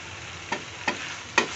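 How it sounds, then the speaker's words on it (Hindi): Three quick scrapes of a spoon stirring okra and onion in a frying pan, each sharp stroke over a soft, steady sizzle. "ये भिंडी और ये प्याज जब आपस में एक दूसरे के साथ हमने मिक्स कर दिया"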